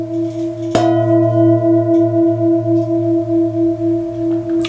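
An antique Jambati singing bowl tuned to A sharp 2, about 1.5 kilos, is struck once and rings with a strong, steady hum and slowly pulsing overtones that sustain alone to the end.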